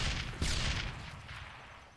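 Grenade blasts in the video game Darkest of Days, one loud heavy boom followed by a rumbling, slowly fading decay.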